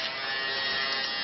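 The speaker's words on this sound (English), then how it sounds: "it runs on 2 AA batteries, and it's an electric razor. So let's turn it on." A small electric razor running on two AA batteries gives off a steady, unbroken whirring buzz, close up and constant, with no voices.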